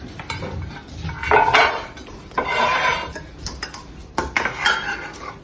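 Potato salad with pickled gherkins being scooped and scraped onto a serving platter, with close clinks and scrapes of a utensil against dishware in short bursts, no talking.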